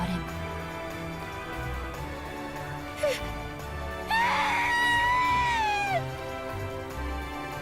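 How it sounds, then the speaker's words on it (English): Kasumi, a character in the Umineko visual novel game, lets out a piercing, wavering high scream for about two seconds over steady background music. "Kasumi let out a piercing scream."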